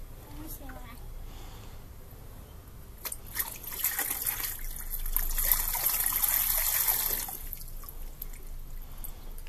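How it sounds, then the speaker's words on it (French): Water poured from a bucket into a toy water mill, a trickling splash that swells into a brief gush and then fades back to drips, heard close by with voices around it. "Mais non, tu renverses le seau dedans."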